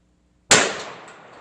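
A single sharp shot from a .31 caliber Remington 1858 pocket revolver fired into a barrel, a sudden loud crack after silence with a short ringing decay.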